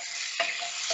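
Oil heats in a pan for bistek tagalog, giving a steady bright hiss with a couple of faint pops.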